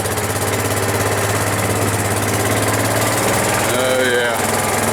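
A vehicle engine runs steadily in low gear, a loud, close, rumbling drone with a constant throb and rattly vibration, with voices talking over it near the end.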